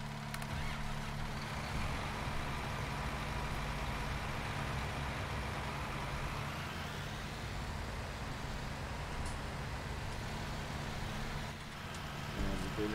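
A tractor engine in the video game Farming Simulator 19 runs at a steady, continuous low rumble that stays loud throughout the whole clip, with no talking over it.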